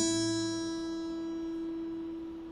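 A single plucked note on the thin high E string of a guitar rings out alone and slowly decays, quiet and close.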